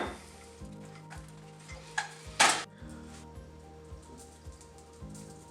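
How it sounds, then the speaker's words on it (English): A cherry glaze for a precooked ham starts to simmer in a pot, a soft bubbling hiss with occasional stirring clatter and one sharper scrape, close by under a steady rhythmic music bed. "now it's starting to come to a simmer."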